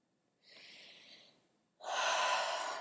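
Two deep breaths during breath work, a softer drawn-in inhale followed after a pause by a louder, rushing exhale, close and alone.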